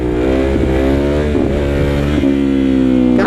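A motorcycle engine in second gear holds a loud steady rev near 15 mph as the clutch is slipped and popped for a wheelie, with slight throttle wobbles and a brief clatter.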